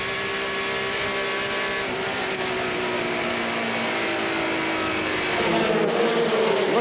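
NASCAR stock cars race at Darlington in the 1993 Gatorade 200, a dense, steady engine roar from several cars close together, swelling louder toward the end, no talk.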